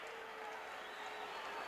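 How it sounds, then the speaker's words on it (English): An old-school wrestling crowd roars approval for Tony Atlas, a steady wash of cheering and applause that holds at an even level throughout. "Tony Atlas, with his crowd roaring their approval"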